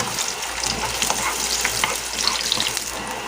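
Garlic and onion sauté in a pan for a squash and shrimp dish, giving a constant dense sizzle with small crackles and pops throughout, close and loud, with no talking.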